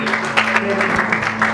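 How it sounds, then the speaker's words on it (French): A church congregation bursts into steady, dense applause, close and loud, with many hands clapping together and a sustained tonal hum running underneath. "Applaudieren wir den Herrn"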